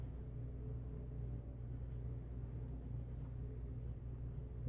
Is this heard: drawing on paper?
yes